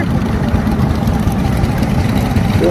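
A 1965 International 806 Wheatland standard gas tractor runs at a steady, loud idle: a dense, unbroken low rumble close by with no pauses.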